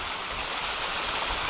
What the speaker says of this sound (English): great fun for her to splash around in a brand new water feature